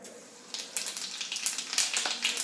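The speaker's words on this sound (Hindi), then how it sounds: "तेल हो चुका है गरम, तो इसमें डालते हैं हम थोड़ा सा जीरा" Cumin seeds sizzle in hot oil for a potato and buttermilk curry, a soft crackling hiss that starts quietly and grows into uneven popping bursts.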